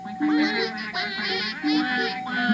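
A human voice imitates a duck with a run of nasal, honking quacks, several short calls in a quick, even rhythm, close and clear.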